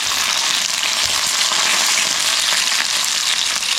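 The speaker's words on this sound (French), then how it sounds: "ce midi, on va faire des darnes de saumon que nous avons acheté au marché l'autre fois. C'est parti, c'est en train de cuire." Salmon steaks frying in a pan outdoors in Brittany, a dense, steady, hissing sizzle close up and fairly loud, with no talking.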